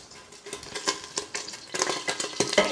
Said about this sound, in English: You can hear our oil spitting and sputtering